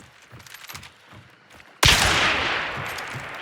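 A gunshot in the game Hunt: Showdown, a loud abrupt crack that follows soft background noise and then rolls into a sustained decaying reverberation, with no one speaking.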